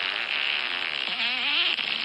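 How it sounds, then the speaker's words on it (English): A long, drawn-out fake fart noise buzzes and wavers continuously for about two seconds, close and fairly loud, with its pitch wobbling and rising near the end. "How do you even fake a fart this long?"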